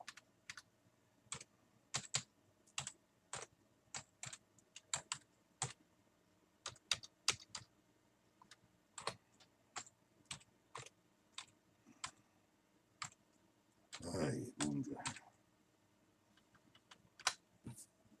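Someone typing on a computer keyboard in bursts of rapid, close clicking keystrokes with short pauses, plus a brief rustle midway.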